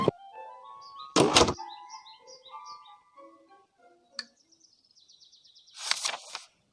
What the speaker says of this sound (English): Pull the string and the door will open.